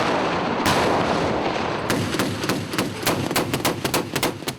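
Tanks and big guns fire downrange at Fort Knox: a heavy rolling boom gives way to a rapid string of loud, sharp reports echoing across the range, with no voices.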